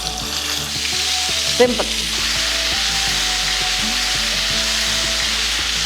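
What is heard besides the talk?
stuffed brinjals simmering in a pan on the stove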